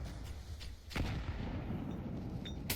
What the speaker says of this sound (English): Electronic is floating around the edge of camera with all the nades now bursting over towards middle